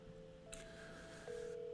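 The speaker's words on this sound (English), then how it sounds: "I'm gonna call Sarah." A telephone being dialed to call Sarah, with a short run of quiet dial tones, the last tone held steady and slightly louder to the end.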